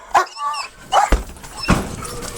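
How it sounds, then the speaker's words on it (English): A police K9 dog barks in a few sharp, close bursts spaced across a short stretch, with no talk over them. "I love whenever there's K9 dogs involved"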